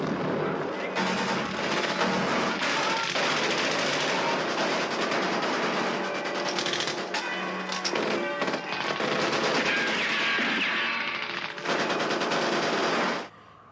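Machine gun fire from a Kelly's Heroes battle scene: dense, continuous rattling bursts with sharp cracks and loud booms layered in a chaotic war-film soundtrack, loud and close, cutting off abruptly at the end.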